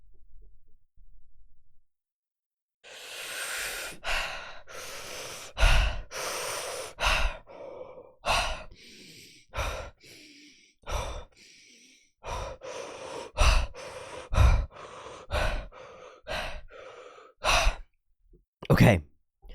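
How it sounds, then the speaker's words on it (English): A woman pauses for a deep breathing exercise, with a long series of slow, audible inhales and exhales and sighs. The breaths come close to the microphone and are separated by short quiet gaps. "I'll include that little bit of breathing because maybe it'll be helpful."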